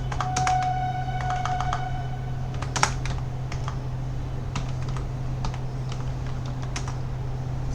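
Typing on a computer keyboard, a run of quick close clicks and key taps over a steady low hum, with a few sparser taps later and no speech.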